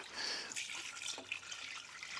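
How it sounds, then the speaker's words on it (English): Potted plants on capillary mats at an allotment are watered, a soft trickle and splash of water with small drips, quiet and close, with no talking. "we'll give them a good water"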